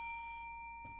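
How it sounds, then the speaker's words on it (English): A single bell tone rings out on a livestream, a faint, pure chime that slowly fades, with a soft knock-like bump near the end. "Don't expect any more bells from the judges today"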